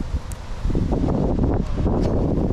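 Strong gusty wind buffeting the microphone outdoors at a fishing spot, a steady roaring rumble with rustling surges and no speech.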